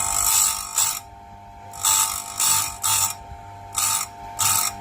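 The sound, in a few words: grinding wheel sharpening a chainsaw chain tooth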